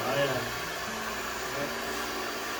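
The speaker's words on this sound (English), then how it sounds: "Harry now is doing something in the barber shop that's very unique, using the blow dryer" A barber runs a blow dryer on a customer's hair in a barber shop, a steady, close whooshing roar of air that holds constant throughout.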